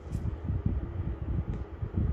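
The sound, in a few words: air conditioner running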